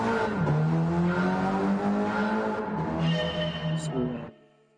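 A race car in Gran Turismo 7 driven at race pace, its engine droning steadily at high revs with a gear change and climbing pitch, close and loud, then cutting off abruptly near the end.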